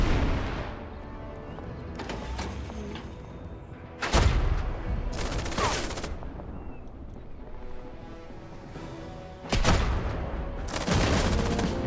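Total Tank Generals battle in Berlin, 1945: loud tank cannon blasts and artillery bursts erupt in heavy clusters over a constant rumble of battlefield noise, with no voices.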